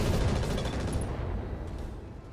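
Mech weapons fire on a Vulcan in the RogueTech game, a dense rumbling barrage of launches and impacts rolling continuously and loud throughout, easing slightly toward the end.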